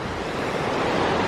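A river where a backcountry trail ends, swollen with spring runoff, rushes in a steady broadband roar, loud and close, with no talking.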